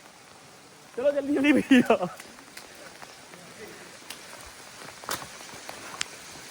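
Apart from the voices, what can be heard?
hail and rain falling while running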